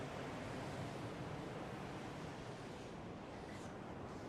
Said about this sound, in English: hopefully these waves get in